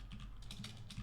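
Keystrokes rattle on a computer keyboard during programming work, several quick bursts of clicks spread across the moment, fairly close and moderately quiet with a low hum underneath.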